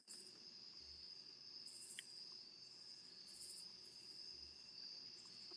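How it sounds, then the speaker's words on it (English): Crickets chirping in a continuous high, shrill trill, faint and steady throughout as a quiet ambient bed with no other sounds or voices. "literal cricket"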